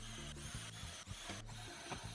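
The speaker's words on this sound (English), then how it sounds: "drill out the rest of the holes" A power drill runs in short repeated bursts, boring holes through a wooden story stick guide in a small woodworking shop, close and steady with brief pauses between pushes.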